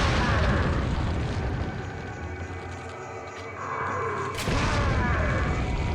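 A bomb bolt detonating in Resident Evil 4 on PS2, a loud booming blast with a rumbling low tail that swells again near the end, no talk over it.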